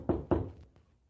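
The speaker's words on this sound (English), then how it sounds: "He's knocking on the door" Two firm, close knocks on a door land in quick succession, followed by a couple of fainter taps that fade into quiet. There is no speech.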